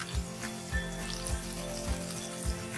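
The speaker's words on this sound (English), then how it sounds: "allow the green chilies to roast for 30 seconds" Green chilies roast in hot oil for a lentil dal tadka, giving a steady close sizzle and crackle with a soft stirring thump every half second or so.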